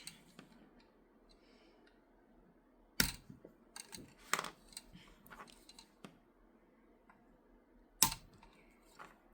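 A hobby cutter snips through plastic with two sharp clicks a few seconds apart, set against quiet background handling noises and a few small ticks.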